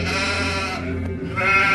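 Sheep and goats bleat together in a short, steady run of nasal, wavering calls that swell louder toward the end, close and continuous with no talking.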